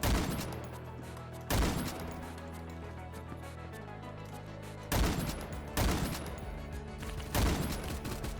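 Bursts of rifle fire in the Roblox shooter Phantom Forces, several short loud volleys spaced a second or more apart, each trailing into a lingering echo over a low ambient bed.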